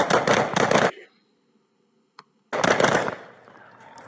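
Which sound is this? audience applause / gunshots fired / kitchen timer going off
gunshots fired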